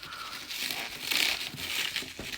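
Cellophane wrapping on new Peugeot 407 headlights crinkles close up, a steady run of crisp rustling and crackling that swells and ebbs across a couple of seconds with no talking.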